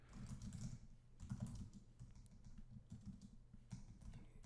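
Rapid clattering keystrokes on a computer keyboard, close and quiet, coming in quick bursts with short gaps between them.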